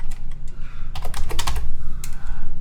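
Fingers type on a computer keyboard at close range, a quiet lead-in followed by dense clusters of crisp key clicks and a couple of louder taps.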